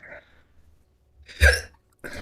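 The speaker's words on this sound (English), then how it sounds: "Fucking hiccups." Single hiccup in the middle, a short voiced burst with a sharp low thump, set between faint breaths and quiet mouth noises at close range during a game session.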